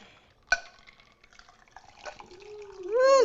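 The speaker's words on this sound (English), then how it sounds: "And we're going to give it a little bit of a pour." A tea cocktail is poured from a shaker into a glass after a sharp clink, the liquid trickling and splashing, then a rising glug as the glass fills, all close and fairly quiet.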